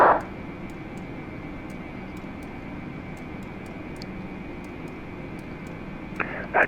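Airbus A320 engine in Microsoft Flight Simulator 2020, a steady broadband cockpit drone with a constant whine holding level throughout, faint ticking above it and brief louder bursts at the very start and end.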